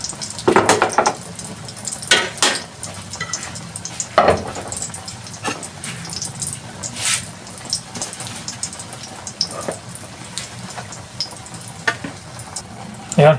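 A squash omelette (tortang kalubasa) fries in a pan with a steady sizzle, broken by occasional scraping and stirring clicks from a bamboo spatula, close up.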